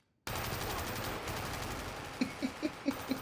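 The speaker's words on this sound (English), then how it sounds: "Guns." Gunfire from a Squid Game Season 2 episode: a steady loud roar, then five sharp, evenly spaced shots ringing out near the end.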